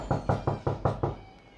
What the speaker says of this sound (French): On toque à la porte.